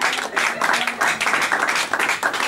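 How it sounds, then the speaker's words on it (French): A church congregation claps in a fast, steady rhythm with some cheering, loud and close, filling the room. "Encourageons-la en acclamant très fort pour la gloire de Dieu"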